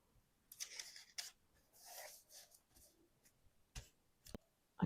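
Scissors snipping a paper strip for a belly band envelope with a window pocket, soft close snips and rustling in quick irregular bursts, quiet and near.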